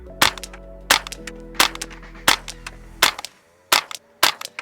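Seven sharp, snappy reports from a 10/22 rifle fired off a bag at targets, spaced at a quick, fairly even rhythm with brief ringing decay between shots, close and loud with no talk.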